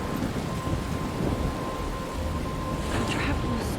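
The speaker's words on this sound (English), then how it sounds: "I'm trapped in a storm?" Steady rain and rumbling thunder of a thunderstorm in the Life is Strange Remastered video game, a dense continuous wash with a louder swell near the end.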